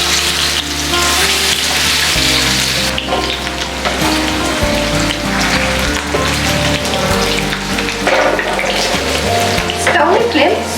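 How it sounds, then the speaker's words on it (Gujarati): Sliced potatoes sizzle and crackle steadily in hot cooking oil, a loud, continuous frying hiss with occasional stirring, shallow-fried for a Gujarati dry potato dish. "તો હવે તેમાં એડ કરીશું સ્લાઇસમાં કટ કરેલા બટેટા."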